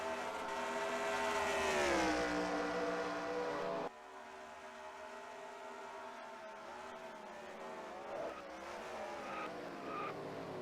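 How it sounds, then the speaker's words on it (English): Race car tires squealing and skidding as they lock under hard braking at Road America in a NASCAR-style racing video game, a long tonal screech over engine drone that shifts pitch, with further engines following, no talking. "Beezer hard on the brakes, locking him up."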